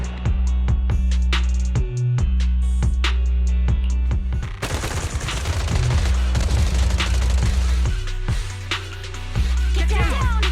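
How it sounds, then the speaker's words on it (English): Rapid bursts of automatic gunfire crackle and pound in dense, continuous volleys of suppressive marching fire, loud and close, with heavy low thuds throughout a battle in the video game Zenless Zone Zero. "Gunfire? This pattern. Suppressive marching fire."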